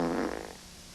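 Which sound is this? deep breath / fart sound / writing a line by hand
fart sound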